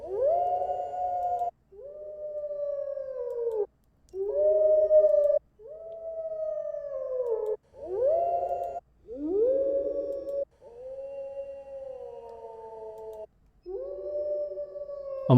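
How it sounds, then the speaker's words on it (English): Wolves howling in a series of long, close, mournful wavering calls, each separated by a short silence, with some voices rising and bending in pitch. "Okay, so those are wolves."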